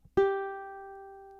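A single plucked, in-tune ukulele G string rings out clearly and sustains, slowly fading over a second and a half, with no other sound.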